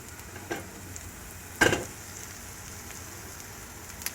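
Vegan chickpea omelette batter frying in an oiled pan gives a soft, steady sizzle, with a couple of brief louder crackles along the way.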